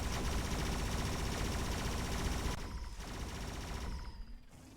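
Rapid drone guns test-fire in the video game D.R.O.N.E., a dense, loud fusillade of automatic shots rattling steadily for most of the stretch, then thinning into a few scattered bursts near the end.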